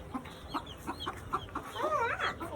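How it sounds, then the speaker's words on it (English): A Silkie hen clucks in a summertime chicken coop, giving a steady run of short, soft clucks that end in a brief, more agitated warble. "What kind of hen is it? Silky."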